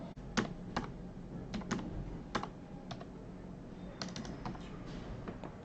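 Computer keyboard typing while a date field is filled in on an online form, a handful of separate key taps spread unevenly over a quiet room background, close and fairly crisp, with no voices.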